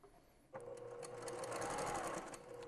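A sewing machine starts after a quiet moment and runs steadily, stitching a seam on fabric for a scrub cap, with a close even whir and rapid needle ticking.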